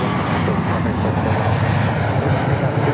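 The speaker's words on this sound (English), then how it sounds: "we'll go to our next arrival, which is an E-Jet. United Express, SkyWest." A United Express SkyWest E-Jet arriving to land at LAX, its jet engine roar steady and loud throughout, a broad continuous rumble with no voices.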